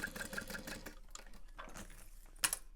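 Sewing machine top stitching a handbag, a fast steady run of needle strokes at the start, then quieter pauses with a few faint mechanical clicks and one sharp tap near the end, with no talk.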